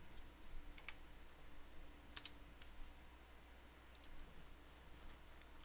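Light clicking on a computer keyboard, soft and fairly distant, in scattered taps over a steady background hiss with no speech.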